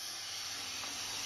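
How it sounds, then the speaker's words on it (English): A T-fal Clipso stainless steel pressure cooker lets off steam in a steady, unbroken hiss that holds at an even, moderate level with no talking over it. "releasing steam like that, apparently"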